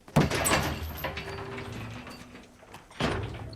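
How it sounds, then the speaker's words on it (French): A door being shut, heard as a close knock and clatter of the door moving, then a quieter stretch with low hum, and a second thud near the end. "tu rentres dedans et tu fermes la porte"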